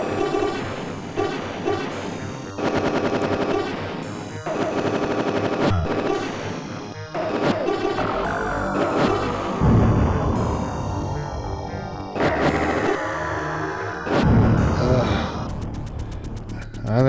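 Rapid laser fire and explosions pour from the DOS space shooter Galactix, a dense, continuous barrage of synthetic zaps, pitch sweeps and bursts over a driving game soundtrack.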